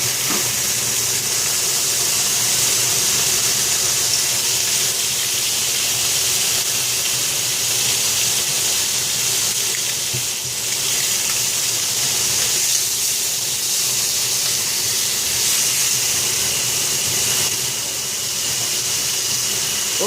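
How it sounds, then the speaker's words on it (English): Bacon rashers fry in a pan as part of sandwich making, with a loud, constant hiss and sizzle that holds close and steady throughout. "Right, bit of bacon, drop that in there."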